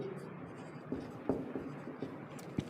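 Chalk or marker scratches in short, irregular strokes on a classroom board during a physics lesson, fairly faint and close, with a few sharper taps between the strokes and no clear speech.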